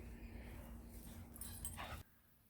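Wilson the dog whimpering indoors, soft high yips and whines over a steady low hum that cuts off abruptly near the end.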